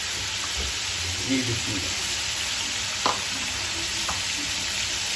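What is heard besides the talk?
matar gosht frying in a pan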